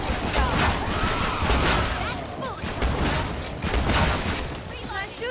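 Rapid gunfire in Killing Floor 2 hammers away in repeated loud bursts with mechanical clatter, close and continuous, with game voice lines mixed in over the shooting.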